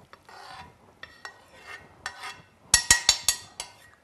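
Vegetables drained in a metal skimmer while cooking fillets of red mullet escabeche, giving soft scraping rubs followed by a cluster of sharp metallic clinks and taps near the end, close and fairly loud, with no talk.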